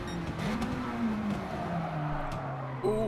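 Race car in a racing game braking hard into a corner, engine note dropping in pitch over continuous road and tire noise, with a brief sharp squeal near the end.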